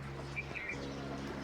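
A bird chirps and tweets a few times, short bright calls over a low steady hum, fairly faint and without any talk.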